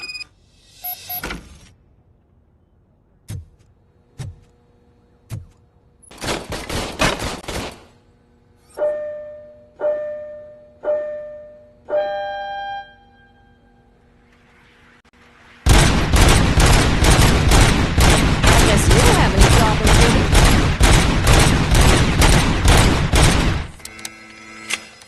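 A service weapon fires in RoboCop Rogue City: scattered single shots and a short sharp burst, then rising electronic whirs, followed by a long sustained stretch of rapid loud automatic gunfire, with no voices.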